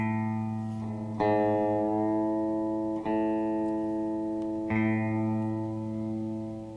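Guitar A string plucked three times against a sustained electronic reference tone, each pluck ringing out with bright harmonics over the steady drone, no talking.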